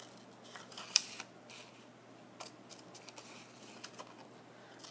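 Scissors cut zigzag edges into paper for a tessellation design, producing faint, irregular snips and small clicks, one sharper than the rest, over a quiet room hiss.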